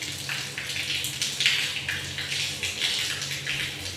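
Water gushes forcefully from a tap into a room with no basin fitted, a loud, close, splashing rush with uneven surges throughout.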